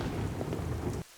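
Heavy rain pours with a rumble of thunder on a stormy night, a dense, loud wash of noise that cuts off abruptly after about a second.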